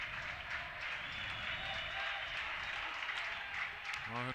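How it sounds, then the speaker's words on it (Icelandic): Crowd of spectators cheering and applauding in an indoor sports hall during the 2013 KR versus Leiknir final, a dense, steady roar of noise filling the hall throughout. "Áhorfendur láta vel í sér heyra"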